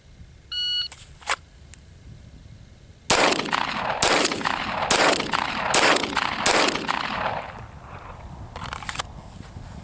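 A Glock 17 Gen 5 MOS pistol fitted with an Apex trigger and a Taran Tactical spring kit fires a quick string of sharp, loud shots at a range after a short electronic timer beep.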